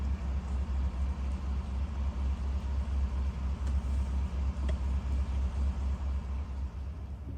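A car driving slowly along Park Road 1C in Buescher State Park: a steady low engine rumble and road noise with a faint pulsing throb, heard from inside the vehicle with no talking.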